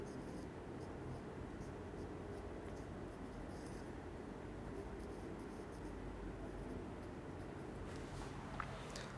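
Steady scratching of chalk or marker on a classroom board during a chemistry lecture, a continuous dry rasp over a constant low room hum, with no one speaking.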